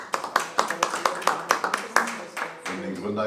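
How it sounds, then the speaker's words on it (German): Audience applause at a German talk on press freedom: a run of sharp, uneven hand claps at moderate level that thins out toward the end, with a voice murmuring under the final second. "danke für den Beifall"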